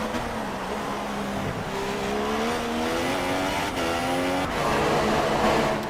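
Formula 1 cars racing around the Monaco circuit in the F1 2016 video game, engines whining and shifting pitch as they accelerate and pass, with a steady roar of several cars and brief tire noise.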